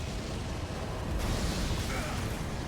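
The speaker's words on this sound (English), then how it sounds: "It hits me so much later than the explosion happened." Dense, roaring blast from an Elden Ring boss fight against Midra, Lord of Frenzied Flame, a broad rumbling burst with a sharper surge midway, loud and sustained amid game din.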